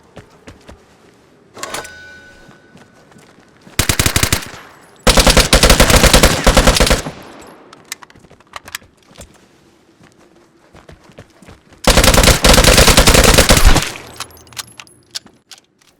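Automatic gunfire bursts in the shooter game Vigor, four loud rapid-fire volleys lasting one to two seconds each, separated by quiet gaps with faint footsteps and ambient noise.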